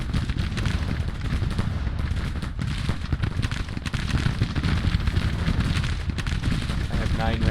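Dense, continuous crackling volleys of gunfire roll from a Civil War firing range in the strategy game Grand Tactician, loud and overlapping, with rapid irregular reports and heavy booming blasts throughout.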